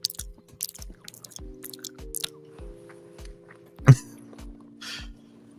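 A person chewing food near the microphone, a series of regular soft crunching and smacking bites with a louder crunch near the end, over a faint steady hum.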